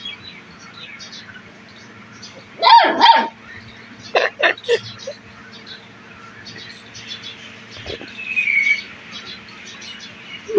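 A dog barks close by in two short clusters of sharp yaps, then falls quiet, over a low steady hum with faint chirps near the end.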